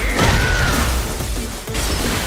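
Glass shatters as a fighter is thrown through a window onto a balcony in a fighting video game, a loud crash with sharp impacts and swishes over dense game noise.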